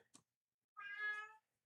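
A pet cat lets out a single drawn-out, strained meow that sounds pained, close and fairly quiet, after a brief faint noise and then silence.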